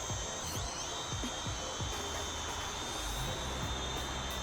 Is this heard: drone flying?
yes